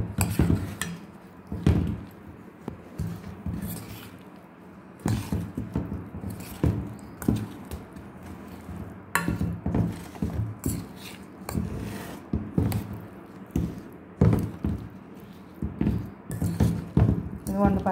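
Mango pickle being mixed by hand with oil and garlic cloves, with steady wet squelching and stirring along with clinks against the vessel, close and continuous with brief pauses.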